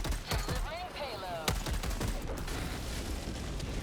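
Rapid gunfire bursts from a strafing run hitting Automaton targets in Helldivers 2, a dense crackling fusillade with sharp impacts over constant rumbling battle noise.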